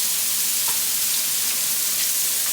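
Seasoned steak laid face down in hot steak fat and oil, searing with a continuous bright sizzle and crackle, close and loud throughout.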